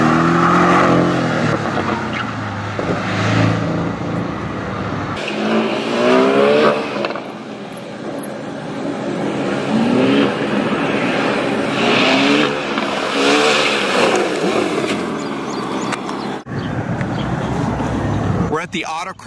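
Porsche car on the autocross section of the Porsche Sport Driving School at Barber Racing track in Birmingham, Alabama, engine revving and surging up and down nearby with a pass and tire noise, with people talking over it throughout.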